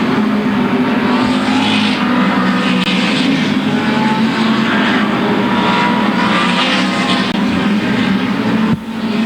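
Late model race cars at Louisville Motor Speedway roar continuously at high volume, a dense, steady engine drone as the pack runs laps with no break.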